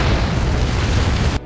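A loud, close explosion in the video game Ace Combat 7 delivers a sustained, heavy rumbling boom that cuts off abruptly near the end into near silence.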